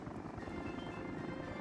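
Construction helicopters in the city-building game Workers and Resources give a steady, faint rotor drone with a soft rhythmic chop, continuous and distant throughout the short stretch.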